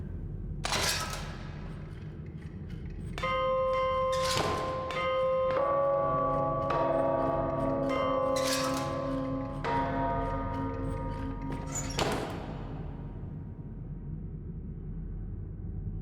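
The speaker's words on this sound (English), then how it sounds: "It starts with 2 chimes." Clock chimes in the video game DarQ ring out as several resonant bell strikes, one after another, each decaying slowly over a low background hum, with no voices.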